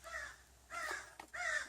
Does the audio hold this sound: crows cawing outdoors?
yes